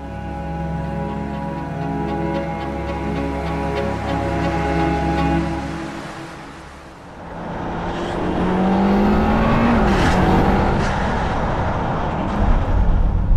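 Ferrari Roma Spider driven in Italy with the roof open, engine droning steadily and then swelling into a louder, rushing acceleration with wind noise, no voices.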